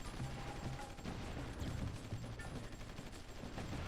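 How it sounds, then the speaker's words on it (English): Artillery bombardment over Prague in a strategy video game: a dense, continuous barrage of overlapping gunfire-like booms and crackles, steady and fairly loud throughout with no talking. "let's have a look at the artilleries in Prague. Have we started bombarding yet?"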